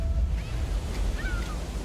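Ocean waves wash onto a beach in a steady, close surf roar, with faint high gull-like cries drifting over the constant rush.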